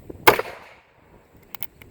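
An old Herters .22 rifle fires one sharp, crisp shot, followed by a fainter pair of quick clicks or knocks a moment later, with quiet outdoor air in between.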